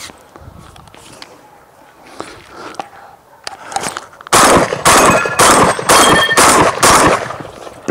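Huglu Veyron semi-automatic shotgun cycling light 21 gram loads, a quick string of loud, sharp blasts fired in rapid succession after a quieter stretch of handling noises.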